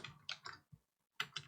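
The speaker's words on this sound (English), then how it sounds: "then start typing local authority" Keystrokes on a computer keyboard while entering text into a spreadsheet cell, a few separate clicky taps, then a pause and a quick burst of keys, close and clear with no talking.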